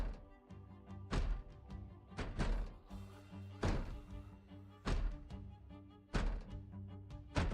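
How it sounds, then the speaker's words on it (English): Repeated heavy thunks of a door being disassembled in the video game Project Zomboid, a series of loud, evenly spaced thuds close by against a steady low background. "We disassemble the door real quick."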